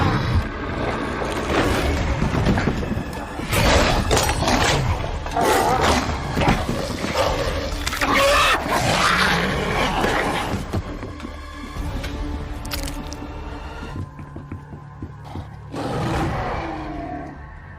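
A werewolf in a film roars and snarls as it attacks, loud, dense growling mixed with crashing, chaotic noise that carries on for many seconds before easing toward the end.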